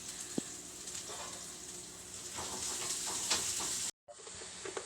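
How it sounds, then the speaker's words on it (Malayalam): Onions sizzling steadily in hot oil in a pan while frying for a Kerala-style clam meat fry, a close continuous hiss with faint stirring clicks, briefly cut off near the end before resuming. "ഉള്ളിയെല്ലാം നല്ലതായിട്ട് വഴഞ്ഞ് വന്നിട്ടുണ്ട്"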